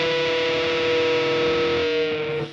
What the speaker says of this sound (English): you pick the G string and you get this nasty